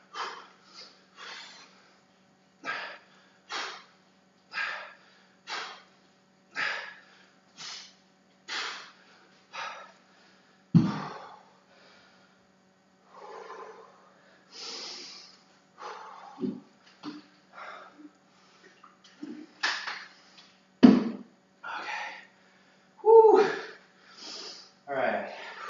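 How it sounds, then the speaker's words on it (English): Someone exercising draws sharp breaths in through the nose, a long series of evenly spaced sniffing inhales at close range, later giving way to rougher gasps and snorts, with brief talking mixed in. "I try to breathe in through my nose"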